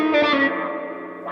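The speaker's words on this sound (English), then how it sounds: "Let's add the wah pedal just to add that extra layer" Electric guitar swells into a ninth-fret note with vibrato through a wah pedal, distorted and reverberant, a single sustained tone sweeping in brightness, near and fairly loud.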